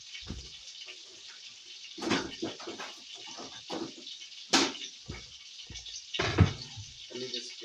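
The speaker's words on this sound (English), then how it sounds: "let me just wash them one more time" Food is washed under a running kitchen tap in a steady hiss of water, interrupted by close splashes and clatters as it is handled. No talking.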